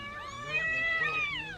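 A cat gives a single drawn-out, wavering meow close by, rising and falling in pitch over faint background noise.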